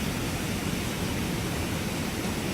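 Brooks Falls pours in a steady, dense roar of rushing water, picked up by a live bear cam, loud and unbroken throughout with no voices.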